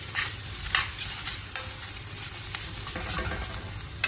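Food stir-fried in a pan on a gas hob for a charred barbecue finish, a steady sizzle with repeated scraping and tossing strokes of the utensil, close and continuous with no talking.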